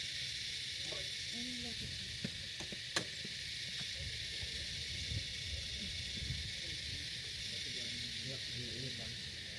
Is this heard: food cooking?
yes